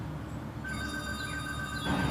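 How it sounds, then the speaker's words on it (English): Telephone ringing in a garage workshop, a steady electronic tone holding across the clip over a constant background hum, with no talk. "I'm gonna have to go answer that phone"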